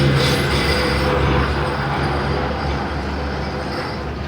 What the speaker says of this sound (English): It's a proper tram,